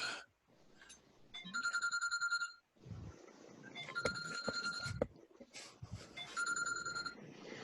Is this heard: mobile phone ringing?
yes